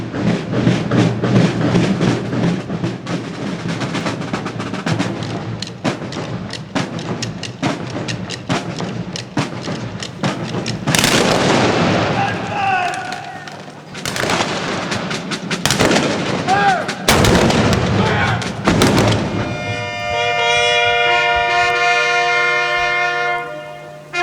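Live artillery and gunfire at the Fort Henry sunset ceremony: sharp, loud booming blasts ring out one after another with long echoing tails, over crowd noise and background music that lingers at the end.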